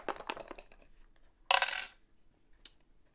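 Several dice rolled and clattering onto a table during a Vampire: The Masquerade tabletop session: a loud, bright rattle of about half a second, a short tail of settling clicks, and a single later tick, following some earlier quieter handling sounds.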